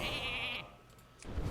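A single sheep bleat from a Polymorph spell in the card game Hearthstone is loud and wavering at the start, then fades into quieter game sounds.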